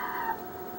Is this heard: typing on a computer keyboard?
no